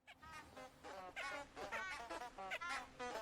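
A flock of geese honking in the Hogwarts Legacy video game, a dense run of nasal, trumpeting calls that overlap in quick irregular bursts, faint and fairly distant, with no voices over them.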